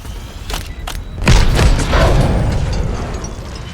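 Mortar strikes in Call of Duty: Black Ops 6 land as a couple of quick thuds followed by a loud, heavy boom that rolls into a lingering rumble of debris and battle noise.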